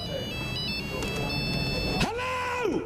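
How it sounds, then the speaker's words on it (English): A telephone rings in the Pokemon Gen 2 video game, a bright electronic chirping tone that sweeps and repeats over a steady background of game music. "the phone in this game is very annoying and people never leave you alone"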